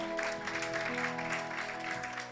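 A church congregation claps and cheers in a sustained burst of acclamation during a sermon on sacrificial giving, with steady crowd noise layered over sustained keyboard or organ tones throughout.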